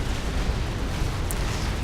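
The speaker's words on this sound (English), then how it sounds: "he starts shooting stuff out with the battleship guns" Heavy battleship guns fire in the strategy game Supreme Commander: Forged Alliance, a loud, steady rumbling barrage of booms with no talk over it.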